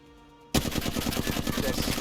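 Weapon fire in the video game Apex Legends, bursting in abruptly after a quiet start as a rapid, loud automatic stream of shots that continues to the end.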